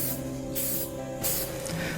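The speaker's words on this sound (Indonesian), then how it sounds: "pakai primer grey ini" Grey primer spray paint hisses from an aerosol can in three short bursts, each about half a second long and separated by brief pauses, loud and close against a low background hum.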